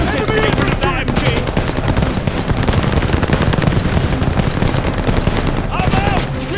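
Machine gun fire in the World War II shooter Call of Duty: Vanguard, dense rapid bursts of close, loud automatic shots hammering continuously with overlapping gunfire and shouted voices in the mix.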